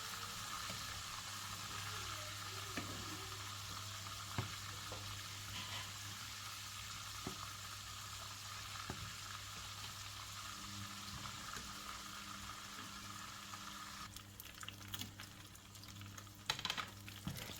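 Small calamari frying in hot oil under a lid give a steady, even sizzle throughout, with a few light clinks and clatters of cookware near the end.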